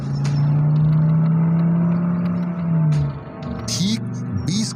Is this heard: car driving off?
yes